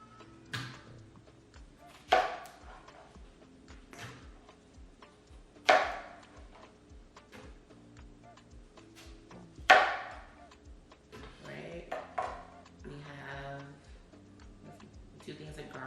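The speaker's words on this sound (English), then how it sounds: "actually let me chop this up" Knife chopping ingredients for a beef sauce on a kitchen cutting board, a steady run of quick, evenly spaced taps with a few louder thuds, close by, with some background voice now and then.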